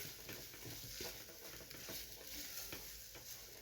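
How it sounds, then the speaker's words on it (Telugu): Potato masala filling being stirred and mixed in a pan, a soft continuous sizzle and scraping with faint patters, quiet and steady with no talk. "ఇది మసాలా తయారైపోయిందండి, దుంపల మసాలా. బాగా కలిపేసుకోవాలి."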